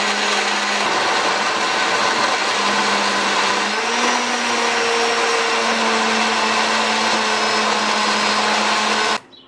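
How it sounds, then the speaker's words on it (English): A vintage Osterizer blender, some 40 to 50 years old, chopping scotch bonnet peppers: a steady, loud motor whine that shifts pitch as the blades load and free up, running alone until it cuts off abruptly at the end. "An osterizer. This thing is probably about 40-50 years old, but it's still working like a beast."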